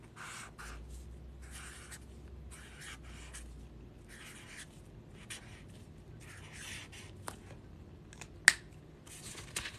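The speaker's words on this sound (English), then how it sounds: "Let me write something here." A pen scratches across a piece of paper, printing a name in short strokes with brief pauses between them. It is close and fairly quiet, ending with a couple of sharp taps.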